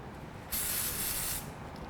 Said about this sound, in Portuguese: toda vez que você vier jogando, joga o spray por baixo, que ele vai ganhando esse corpo aqui